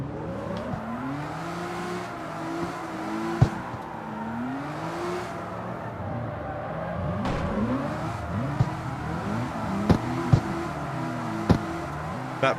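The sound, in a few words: RB26 engine revving in Mazda MX-5, CarX Street video game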